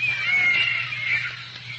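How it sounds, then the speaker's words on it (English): Alley cats yowling and caterwauling in a radio drama sound effect, a sustained, wavering high cry that holds loud and close for the whole stretch over a low steady hum, with no talking. "But I'm sure it's just cats."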